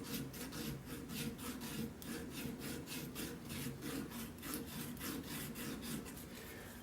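A wooden part of an antique brace being sanded by hand, with steady rhythmic back-and-forth rasping strokes, close and continuous, with no voices.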